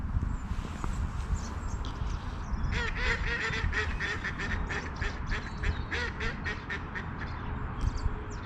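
Ducks quack in a busy, overlapping chorus at a lake, with a run of repeated calls rising in the middle, over steady outdoor background noise and no talking.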